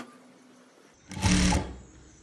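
A sewing machine stitches piping onto a gown neckline in one short, steady burst of close running, starting after a quiet moment and stopping abruptly.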